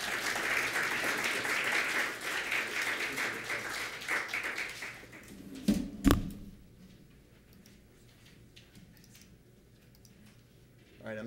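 Lecture-hall audience applauding to welcome a speaker at Harvard's Graduate School of Design, dense clapping that fades over several seconds, with a couple of loud knocks and quiet room sound after.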